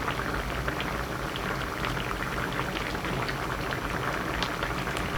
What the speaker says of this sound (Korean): 모든 야채가 익을 때까지 거품 걷어가면서 끓입니다